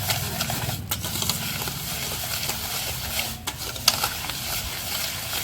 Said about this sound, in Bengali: এটাকে ভালো করে এখানে গুলিয়ে নিতে হবে